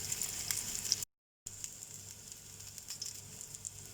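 Mutton chops frying in a pan give a steady, close sizzle with crackling pops throughout, cut by a brief moment of silence partway through.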